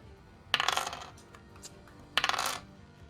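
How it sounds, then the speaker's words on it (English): Dice rattle and tumble across a table in two short bursts, loud and close, during a tabletop role-playing game session, with no talking over them. "Let me get the magical dice."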